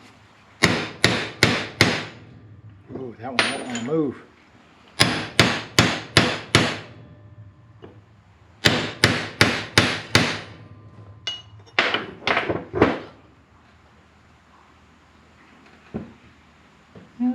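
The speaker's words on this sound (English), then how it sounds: "Bigger hammer." A hammer pounds on the cutter bar carrier bearing of a New Holland 1412 in rapid bursts of sharp metallic blows, with short pauses between the bursts and a brief remark spoken between the strikes.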